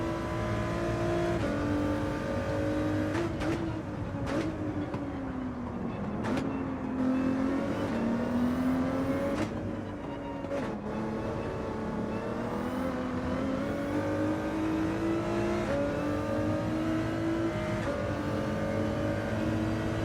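Race car engines in Gran Turismo 7 accelerating down a straight, a sustained whining drone whose pitch rises and dips through gear changes, steady and fairly loud, with no talking.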